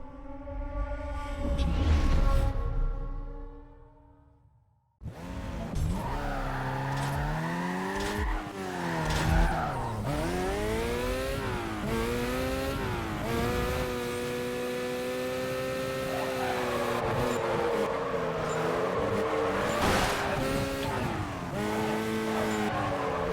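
A Mazda RX-8 drifts in Need for Speed Carbon with a loud, sustained tire squeal that rises and falls against the engine's high revs, broken by a short gap and then near-continuous sliding.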